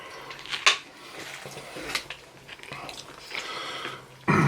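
Biting and chewing a toasted Subway meatball sub gone soggy with onion and lettuce, moist close-up mouth sounds with a few crunchy bites and a sharper bite near the end.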